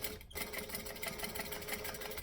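A sewing machine runs steadily, stitching around the edge of fabric, with a close, even mechanical whir and rapid needle rattle after a brief pause at the start, no talking.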